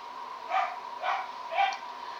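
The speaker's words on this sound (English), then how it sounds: "That's the Hounds of the Baskervilles, y'all, my wiener dogs." Dachshunds bark three times in an even rhythm, muffled and somewhat distant as if from another room, over a steady background hum.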